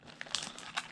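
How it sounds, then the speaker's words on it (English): Saran wrap being peeled and torn off a trading card box, a quick burst of close crinkling and crackling plastic lasting about a second. "Get this annoying saran wrap off."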